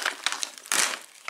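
A Mountain House freeze-dried scrambled eggs with bacon pouch torn open at its notch, crisp crinkling of foil packaging ending in a sharp rip, heard up close with no talking.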